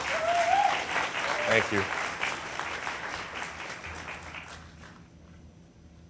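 An audience applauds loudly to welcome a sportscaster at a school success-prep event, the clapping swelling early and then tapering off; someone briefly says a few words over it.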